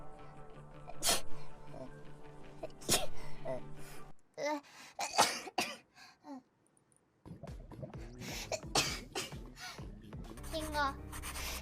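Several sharp sneezes break through ongoing chatter from a group of people, with laughter and voices running between the bursts.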